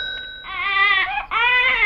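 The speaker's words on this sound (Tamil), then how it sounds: "குழந்தையின் அழுகுரல் சத்தம்" A baby cries in loud wailing bursts, a high strained cry that breaks briefly midway and then resumes, heard close and with little else around it.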